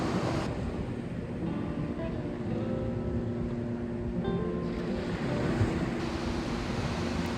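Ocean waves wash onto a beach in a video game survival world, a steady, soft surf rush with a faint windy hiss throughout.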